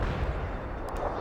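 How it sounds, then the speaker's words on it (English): A heavy artillery barrage in the strategy game World in Conflict: a brief, dense burst of booming impacts and low rumble, loud and continuous for about a second. "Heavy artillery barrage inbound."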